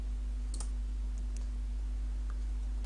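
A computer mouse clicks the game start button in the Dragomon Hunter launcher, giving a few sharp, isolated clicks over a constant low electrical hum.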